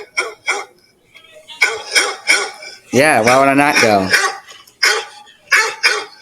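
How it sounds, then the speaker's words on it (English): A dog barks repeatedly indoors in sharp, loud yaps, with one drawn-out howling whine in the middle, while a person talks over it nearby. "Shut up, dog."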